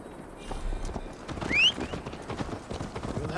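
Horse hooves pounding at a gallop in Assassin's Creed Valhalla, a steady rapid clip-clop close by with a short whinny-like squeal midway, over a low rumbling ride ambience.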